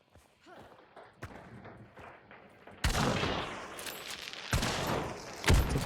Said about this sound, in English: It's a bomb lance.